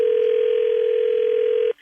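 A steady telephone dial tone hums loud and close for nearly two seconds before cutting off abruptly, heard ahead of placing a three-way call.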